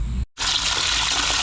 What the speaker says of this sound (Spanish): Y ahora lo que se hace es echar agua.